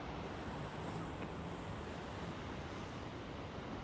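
Ocean waves wash steadily onto the shore in a continuous, even roar of surf, with no voices over it.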